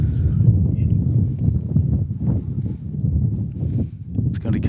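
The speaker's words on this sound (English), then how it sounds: "That is a gust and a half." A strong gust of wind roars across the microphone at an outdoor bowls state pairs semi-final, a steady low buffeting rumble lasting throughout, with some faint background sounds near the end.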